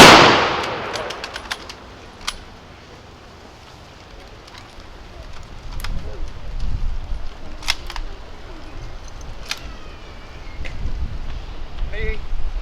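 An honor guard fires rifle volleys at an outdoor Veterans Day parade, sharp cracks spaced several seconds apart among camera clicks, wind and crowd murmur, with a commander's call heard.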